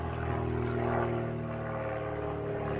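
A propeller aircraft drones overhead on a bright day in Essex, England, making a steady, humming engine tone that rises slightly and then holds, moderately distant and alone.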